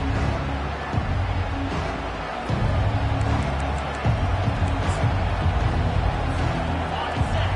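Dense stadium crowd noise at a football game, a steady roar of cheering and babble filling the whole stretch, with occasional louder swells.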